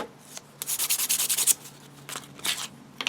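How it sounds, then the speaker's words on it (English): A micarta knife handle gets a light sanding, a close run of quick rhythmic rubbing strokes, then a pause and a few more short passes, with no talk. "It's just a really light sand over"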